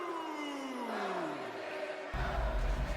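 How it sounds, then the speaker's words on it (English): Video-game wrestling arena crowd from WWE 2K20 roaring and cheering for an entrance, a dense sustained wash of noise that swells louder near the end with a falling tone sweeping beneath it. "the crowd, they certainly are behind this man"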